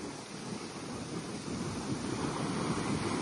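Surf rolling onto a beach, a steady broadband wash of breaking sea waves with wind noise buffeting the microphone, swelling slightly louder toward the end and continuing without pause.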